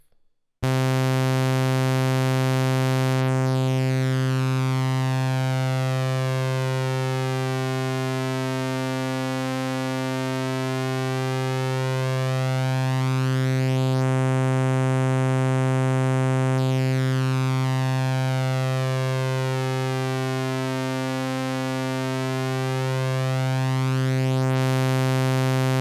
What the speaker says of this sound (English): let's hear what it sounds like if we apply the shape mode to the sawtooth wave